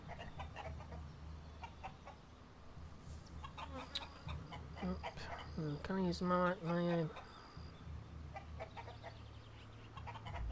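A cave bird in the video game ELEX clucks in quick rooster-like bursts over a low steady game ambience, with a voice talking briefly nearby.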